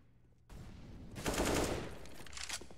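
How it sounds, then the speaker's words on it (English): Rapid bursts of gunfire from a competitive Counter-Strike-style esports match between Bad News Eagles and forZe, loud and dense automatic shots clustering in the middle with sporadic shots after, no voices over them. "We do see shots ring through."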